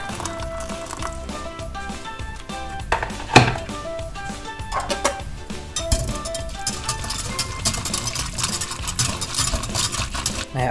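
Stock is mixed with boiling water in a container for a brisket spray, with clinks of a utensil against the sides and a sharp knock partway through, over a soft background.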